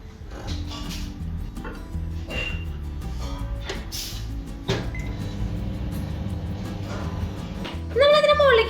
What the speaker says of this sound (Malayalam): ഇനി നമ്മൾ ഇത് മൈക്രോവേവിൽ വെരി ഹൈ ഹീറ്റിൽ 2 മിനിറ്റ് നമ്മളിതൊന്ന് കുക്ക് ചെയ്തെടുക്കാൻ